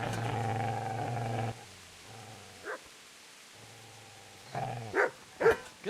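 A dog growls in the medieval video game Kingdom Come Deliverance, a low rumbling snarl that stops and restarts, followed by several short, sharp barks toward the end, at moderate loudness with no voices.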